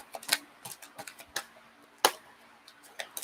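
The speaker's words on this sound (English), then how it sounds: "One more shuffle and see if we get anything" Tarot cards being shuffled, a string of crisp irregular clicks and flicks, with two sharper snaps standing out, close and fairly quiet.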